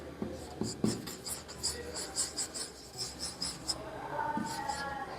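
Pen scratching across paper in short repeated strokes during a class lesson, moderately close and fairly quiet, with a few brief knocks and a faint voice near the end.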